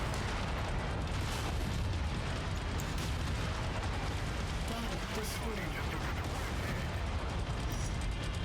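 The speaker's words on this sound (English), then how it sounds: "Hit these fuel tanks. Hit anything that explodes." Fuel tanks blow up in the mech combat game Mechwarrior 5: Mercenaries during a city attack, a continuous dense roar of explosions and bursts filling the whole stretch at high loudness.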